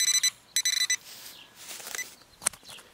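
An X-Terra 705 metal detector sounds its pinpoint signal outdoors in a park, a few bursts of rapid high electronic beeping close by, followed by faint scraping and rustling of the coil over ground.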